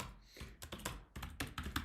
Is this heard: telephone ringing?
no